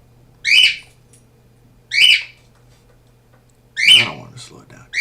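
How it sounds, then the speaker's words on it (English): A bird gives three loud whistled calls, each a short rising-falling burst spaced over a second apart, the last one followed by a rougher squawk, with a faint low hum underneath. "I hate that bird"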